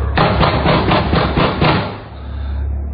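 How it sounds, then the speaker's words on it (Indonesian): Loud, heavy pounding on a door as a radio drama sound effect, a rapid run of about eight hard thuds over two seconds, close and alone, then fading into a low hum. "Suara ketukannya terdengar sangat keras. Bukan lagi seperti diketuk, tapi digedor-gedor."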